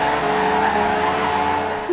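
In the Forza Horizon 2 racing game, a Ferrari slides sideways in a drift, its tires skidding in a continuous loud squeal over the sustained engine drone.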